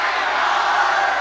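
A large political rally crowd in Laramie, Wyoming shouts out an answer together, a loud, dense burst of many voices yelling at once that fills the whole moment.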